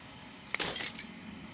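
A single bright shatter of glass in the video game Slay the Princess: a sharp crack followed by a brief cascade of tinkling shards that fades within a second.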